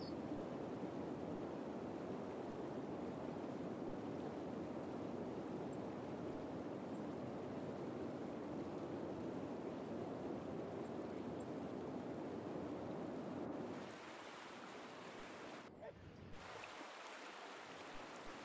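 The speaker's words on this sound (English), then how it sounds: "The waves are big, I guess." Big ocean waves in the city-building game Cities Skylines, a steady broad wash of surf and rushing water held for most of the stretch, then dropping quieter near the end with a brief gap.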